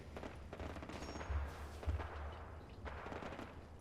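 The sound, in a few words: battle gunfire in the video game Fallout 4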